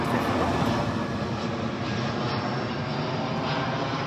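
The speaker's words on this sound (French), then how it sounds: "On va laisser passer l'avion, je dois l'entendre très fort." An airplane passing overhead outdoors, heard as a steady, loud broadband roar that holds evenly for about four seconds with no voices over it.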